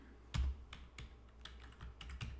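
Keys clatter on a computer keyboard in a spreadsheet form setting, a handful of quiet, close taps and clicks with an irregular rhythm and one heavier thump near the start, with no voices.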